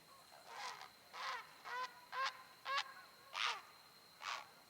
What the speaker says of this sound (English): That old bird over there, he's upset because I'm using another bird for bait.